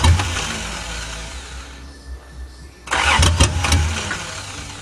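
A 1982 Toyota Cressida running on bad gas cranks for a couple of seconds, then catches and roars loudly with a few sharp revs up close.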